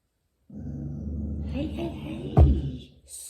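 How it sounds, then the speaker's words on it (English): A pet dog growls in a low, rumbling stretch that swells and breaks into a sharper snarl before trailing off, heard up close with a voice mixed in. "my dog never growls like that"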